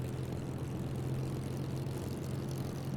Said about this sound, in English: I'm losing engine.